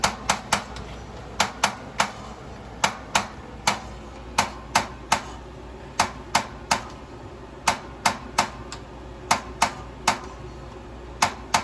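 The stove igniter in a 2020 Sabre 38DBQ RV clicks about two dozen times, sharp, close and fairly evenly spaced, over a quiet background with no voices.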